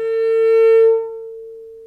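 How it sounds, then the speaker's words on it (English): A single sustained cello harmonic on a D string tuned too sharp, bowed clearly and close, swelling then fading over under two seconds with no other sound. "My D string is too sharp, so the harmonics sound like this."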